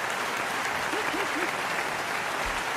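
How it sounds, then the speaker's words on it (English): Steady, dense applause from an audience fills the whole short stretch, even and continuous with a brief vocal whoop underneath. "Let's get her a good applause break."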